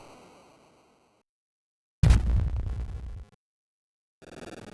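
A big explosion from the Puyo Puyo Tsuu ending bursts in loud and full, then cuts off abruptly after about a second, framed by quieter game music before and after.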